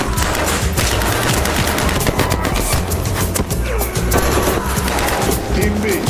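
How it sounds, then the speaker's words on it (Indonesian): Dense, sustained gunfire from several weapons pours onto a steel bunker in an action film scene, rapid bursts overlapping continuously and loud throughout, with heavy low rumble beneath. "langsung menghujani bunker baja itu dengan peluru"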